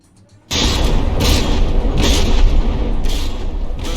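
Battleship guns open up in the naval combat game From the Depths with an abrupt, loud booming onset, followed by a sustained roar of heavy fire punctuated by repeated bursts of blasts, close and overwhelming, with no voices.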